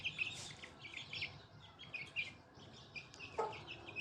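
An Aseel rooster with a mouth canker makes soft, intermittent clucks and chirps at moderate distance, a quiet irregular run of calls over faint background noise, with one sharper call near the end.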